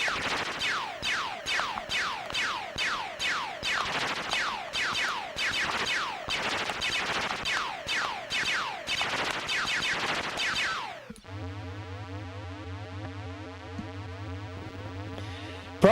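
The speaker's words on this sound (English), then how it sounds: "when I drop a bomb on Skeletor, then I can't shoot at the asteroids coming" Rapid-fire electronic shooting from an Intellivision game involving Skeletor, bombs and asteroids: a steady stream of quick descending zaps for about eleven seconds, then a switch to buzzy, stepped tonal beeps, loud with no talking.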